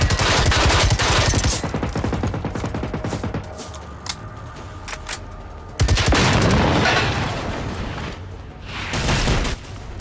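Loud, rapid automatic gunfire in the video game Generation Zero, with sustained bursts of machine-gun fire and some booming shots, a brief pause and then another long burst, all without talking.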